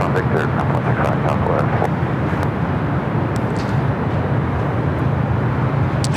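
A Hawaiian Airlines Airbus A330-200 widebody jet taxis toward a north side takeoff at LAX, a steady loud engine rumble and whine filling the airport air throughout, with a voice talking over it.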